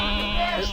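A goat bleats in one sustained, wavering, nasal cry that lasts a moment, close and fairly loud, with faint background sound beneath.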